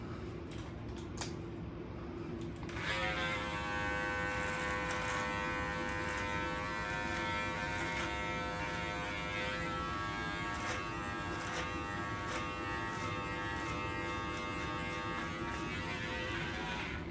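Electric hair clippers fitted with a 6mm guard buzz steadily and close by, a sharp start followed by an unbroken, even hum with small tapping variations as they move through hair.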